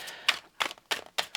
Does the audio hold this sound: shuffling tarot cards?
yes